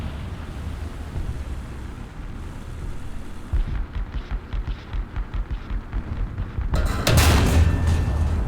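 M55 self-propelled howitzer in War Thunder, a heavy artillery boom after a stretch of rumbling engine and rhythmic mechanical pulsing, the blast loud and close near the end.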